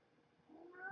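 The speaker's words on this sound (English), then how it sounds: "Oh my God, this cat." A cat named Lily gives one short, faint meow that rises at the end, close by and alone in a quiet room.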